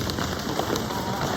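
An audience pats their legs with their hands to imitate rain, making a dense, even patter that stays loud and steady throughout with no voices.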